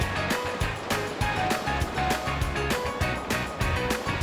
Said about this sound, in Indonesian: anak-anak di Ulu Ogan bermain di aliran sungai deras dan dikelilingi bebatuan seperti ini